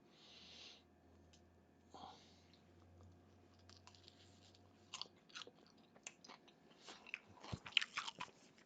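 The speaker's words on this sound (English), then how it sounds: "Hear that crunch?" Someone chews crispy oven-baked potato skins, giving faint, close crunches and clicks that grow busier and louder toward the end after a quiet start with a soft low hum.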